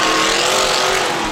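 Roaring race car engines on a dirt track during a Can-Am race, a loud, close, sustained snarl of engines at high revs with a faint tire squeal, filling the whole moment without talk.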